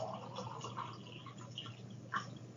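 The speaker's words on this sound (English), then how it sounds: "Get some water, sorry about that." Water being poured or sipped in a quiet room during a marketing lecture, heard as soft liquid dribbles and small drips at low level with no speech.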